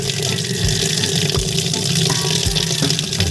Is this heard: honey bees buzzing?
no